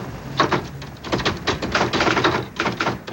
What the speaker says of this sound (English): James Scotty Reston banged away on a manual typewriter.